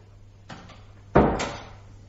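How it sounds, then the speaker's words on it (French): A door swings shut indoors with a soft first knock followed by a louder, close thud and a brief fading rattle. "Fermez la porte, s'il vous plaît."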